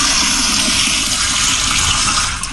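Loud toilet flush sound effect, a steady rushing gush of water that holds throughout and begins to tail off at the end.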